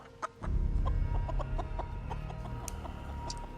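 A chicken clucks repeatedly in a short, choppy rhythm, close and fairly loud, over a low background rumble in a Western-style wasteland scene.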